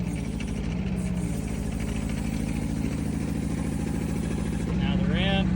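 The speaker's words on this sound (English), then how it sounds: "We give it a little bit of throttle. Tracks are expanding out." A Rippa R10 mini excavator's engine runs steadily up close and rises briefly with throttle while its tracks expand outward, with a voice talking over it.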